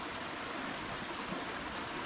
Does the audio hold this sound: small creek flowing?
yes